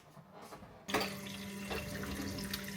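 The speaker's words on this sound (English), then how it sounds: "I'm going to give these ones a quick wash." Potatoes being rinsed under a running kitchen tap, a soft trickle that swells into a steady, close gush of water spilling into the sink and holds without pause.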